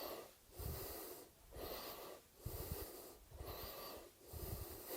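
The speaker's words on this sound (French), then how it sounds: "je suis un peu essoufflé" Heavy, labored breathing after a set of squats, with about five rhythmic inhale-exhale cycles, close to the mic and fairly loud, with raspy, wheezy breaths and no talking.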